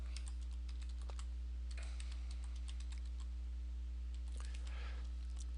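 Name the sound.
typing username and password on computer keyboard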